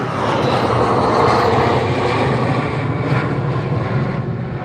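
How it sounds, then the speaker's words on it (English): A jet aircraft roars overhead as a steady broad rushing rumble that swells slightly and then holds, loud and continuous, with no voices. "Oh, there goes the jet."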